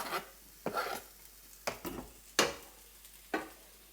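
Garlic goes into a pan of browning onions as a spoon stirs it, giving several scraping strokes with a light sizzle underneath, close and fairly quiet.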